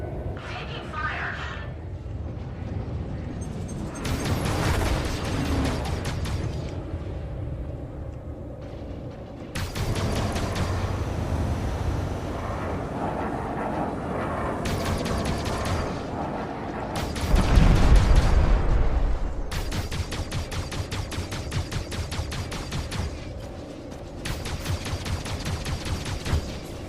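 Gunfire and weapon impacts in the Star Citizen space combat game, heard as repeated loud bursts and booms over a steady engine drone, with one heavier blast near the middle and flurries of rapid shots throughout.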